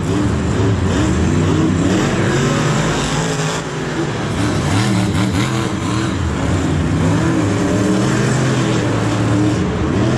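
Monster trucks, the Lucas Oil Crusader and Great Clips Mohawk Warrior, racing in a muddy MetLife Stadium: loud, continuous engine roar with revving swells and passing surges, with crowd noise beneath.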